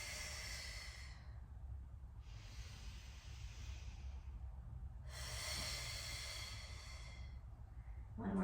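Breathy exhales repeat during a deep core workout, with three long hissing breaths close to the mic, each lasting about two seconds, separated by pauses over a steady low background hum.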